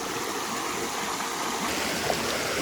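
A small river runs steadily past its banks, a continuous broadband wash of flowing water close by, with no voices over it.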